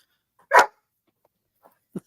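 A dog gives one sharp bark, then after a pause a shorter, softer bark, both standing alone in an otherwise quiet room.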